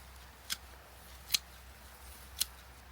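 Scissors snip through garden plant stalks three times, each cut a short sharp click spaced roughly a second apart against quiet outdoor background.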